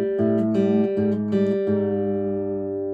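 A guitar's A string is tuned down to G against a reference G note, with sustained ringing tones that are re-plucked about four times and slowly settle, heard close and alone.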